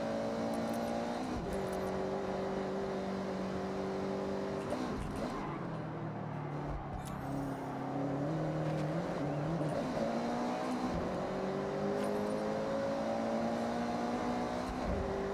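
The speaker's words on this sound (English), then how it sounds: "But enough power to actually accelerate through the corner." In Forza Horizon 6, a low-power car's engine holds a steady tone, dips briefly, then climbs again as it accelerates through a corner, close and continuous throughout with no talk.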